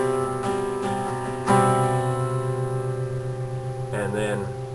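A guitar chord for a song, fretted on the 4th fret of the 5th string, is struck and left to ring with sustained tones; it swells on a fresh strum midway and then fades while a faint voice comes in at the end.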